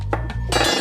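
Ladle striking a large 4-cup Pyrex glass measuring cup in a kitchen, a couple of quick bright clinks against a low background hum.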